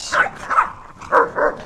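Dog barking close by in four quick, sharp yips spaced in two pairs, loud and bright with brief gaps between them.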